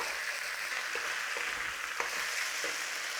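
Meat browning in a hot pan for Liverpool scouse, a steady bright sizzle running throughout with a few faint pops and clicks, close and even.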